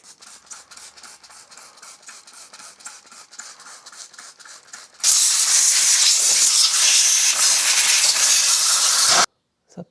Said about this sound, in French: Et là, je prends le même pistolet, mais il y a de l'eau dedans.